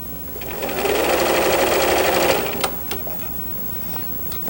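A home sewing machine zigzag stitching the turned-under short edge of a waistband facing, a fast close mechanical whir for about two seconds before it stops, followed by a couple of soft clicks.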